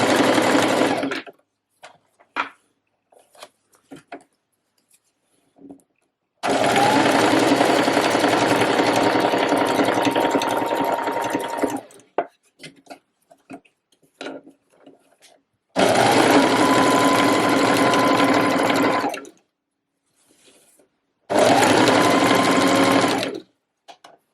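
A sewing machine stitches elastic onto a trouser waistband in four loud, steady whirring runs of several seconds each, separated by quiet gaps filled with faint handling clicks.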